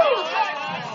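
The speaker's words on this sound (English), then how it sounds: "you could probably hear the crowd in the background not thrilled with that call in the slightest" A baseball crowd at a varsity high school game reacts unhappily to an umpire's call with a short, loud burst of mixed voices and groans.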